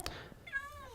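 Cats meowing indoors during a Minecraft gaming session, one short cry up front and a longer rising-falling meow near the end, close and moderately loud.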